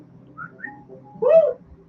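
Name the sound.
man imitating a wolf whistle at a woman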